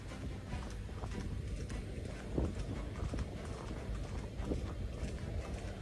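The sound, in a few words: horse hooves clip-clopping on the street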